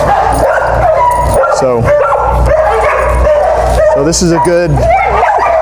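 An excited, overstimulated leashed dog barks, yips and whimpers loudly and continuously near other dogs, the sounds mixed with a person talking over them throughout.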